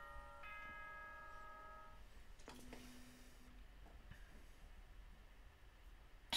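A short video-game announcement chime from Danganronpa plays a few bell-like tones, faint and alone, followed by a lower sustained tone and a sharp click at the end.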